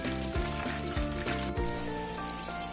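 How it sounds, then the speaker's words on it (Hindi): Mutton chops deep frying in oil over a low flame, a steady close sizzle with bubbling pops and a few soft stirring knocks, no voices. "ये देखें व्यूअर्स, चापें कितनी प्यारी और खूबसूरत फ्राई हो रही हैं।"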